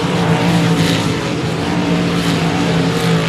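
Race cars lap the track at Cotton Bowl Speedway, their engines a loud, steady, dense roar with layered droning tones that holds without break, close and continuous.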